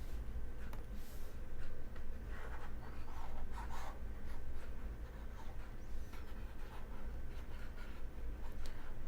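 Numbers written by hand with a pen on paper, a soft continuous scratching that runs steadily and fairly quietly for the whole stretch with no voices.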